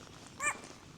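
A single dog barks once, brief and somewhat distant, in a snowy winter forest, set against a quiet, muffled outdoor background.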